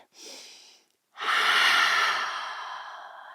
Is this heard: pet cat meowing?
no